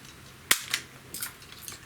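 An HK MP5 K-PDW CO2 replica gun with blowback fires a few sharp, close snapping shots, one strong crack followed by lighter pops spaced irregularly, with no talking.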